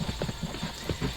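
Horse hooves in a video game clip-clop at a quick, steady trot, close, loud and regular, with no voices.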